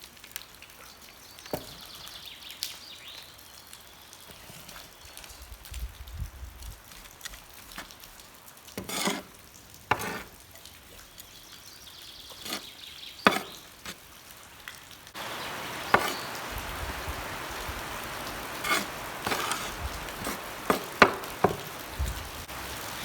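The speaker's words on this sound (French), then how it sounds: "Je le mélange avec le terreau à proportion moitié-moitié" Garden soil is mixed half and half with potting compost, giving scattered crumbly scrapes and rustles that grow denser toward the end, fairly close, with no talking.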